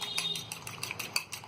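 A utensil beats eggs with black pepper and green coriander in a bowl, a fast run of light metallic clinks at a close, steady rhythm.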